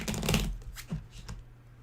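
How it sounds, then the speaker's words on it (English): A deck of playing cards being shuffled during a tabletop card game, a quick riffling burst followed by a few softer taps and flicks as the cards are squared up, close and moderately quiet. "So I'm gonna give this a better shuffle"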